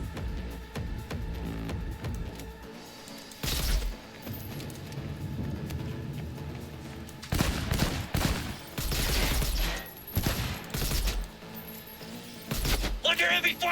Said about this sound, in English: Under heavy fire!